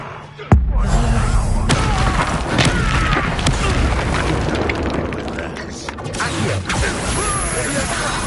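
A fire spell cast in a Harry Potter video game erupts with a loud boom and then a sustained roaring, crackling blaze that fills the rest of the moment, with a voice speaking over it.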